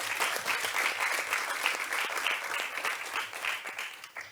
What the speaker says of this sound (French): Est-ce qu'on peut acclamer très fort pour le jury?